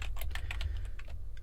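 Rapid, close keystrokes on a computer keyboard as a macro name is typed, a quick irregular run of light clicks with no talking.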